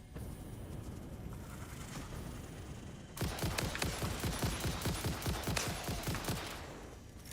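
Rapid gunfire bursts in the video game Satisfactory, a dense fusillade of sharp repeated shots breaking in after a few seconds of steady background noise and continuing loudly to the end.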